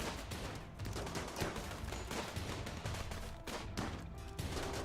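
Rapid bursts of gunfire from a colony battle in the video game RimWorld crackle in dense, overlapping volleys. The shots run continuously and fairly evenly, mixed with other game effects.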